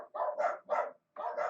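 Several dogs bark in quick repeated bursts, five loud close barks with a short pause before the last pair, no talking over them.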